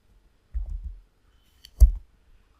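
Two short computer mouse clicks, a second apart, close and fairly soft, during a VMware Workstation virtual machine setup, with no talking.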